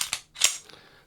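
A Sig Sauer SP2022 pistol dry-fired in double action gives two sharp metallic clicks in quick succession, then a fainter rattle of the mechanism settling, close and crisp with no voices.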